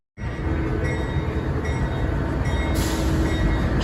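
Amtrak train rumbling steadily from inside a roomette, a continuous loud low rolling roar of wheels on rails with a brighter hiss swelling near the end, no talking.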